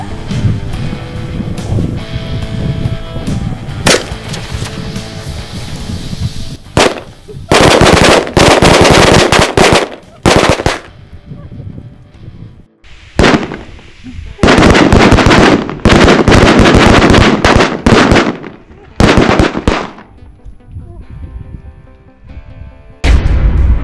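A whole box of linked firecrackers goes off at once, loud rapid crackling volleys like machine-gun fire in several long bursts with short pauses between, heard close up outdoors.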